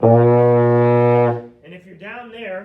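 Baritone euphonium sounding a sustained low B flat for over a second, a rich steady brass tone, close and loud, followed by someone speaking.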